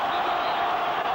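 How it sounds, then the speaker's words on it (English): Stadium crowd at a Liverpool v Athletic Bilbao football match roaring after a free kick is given, a loud sustained wall of voices and jeers from thousands of spectators throughout. "just listen to the reaction of the crowd"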